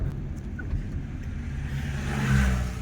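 A jeep engine revs steadily up close, its low rumble and mid-range whir rising in the final second as the throttle opens, with no voices over it.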